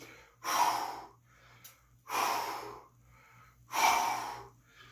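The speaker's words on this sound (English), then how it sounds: "I'm trying to breathe out every time I turn." Three strong, rhythmic exhalations about a second and a half apart from someone twisting through a workout, each a broad breathy rush with quieter gaps between, close and clear with no talking.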